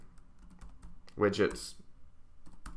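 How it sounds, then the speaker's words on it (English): Tapping on a computer keyboard while coding, scattered soft keystrokes under a brief spoken word. "These variables that I'm typing in"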